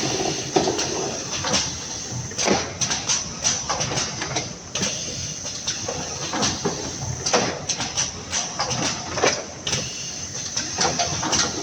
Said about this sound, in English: how the automatic lid and base boxes tray former machines working again